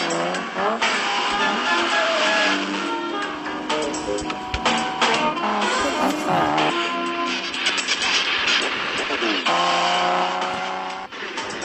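Car chase from the 1995 film GoldenEye: dense, loud action mix with engine roar, squealing tires and skids blended with a prominent orchestral score, continuous throughout.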